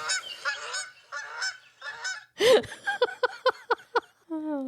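A goose honks loudly and repeatedly up close, a series of harsh, nasal calls in quick bursts, with a few rougher squawks between them.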